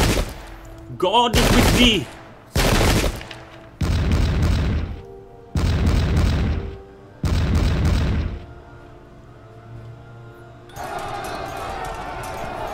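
Musket volleys and artillery in the strategy game Pike & Shot crash out in about five loud, separate bursts of booming fire, then give way to a quieter rumbling din, with a voice speaking briefly.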